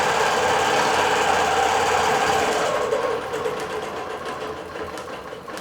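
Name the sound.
digital quilting sewing machine running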